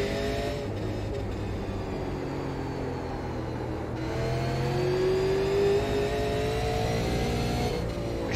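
Super Late Model race car engine in iRacing at South Boston revving and accelerating steadily off a corner, a continuous loud drone with rising pitch and no talking.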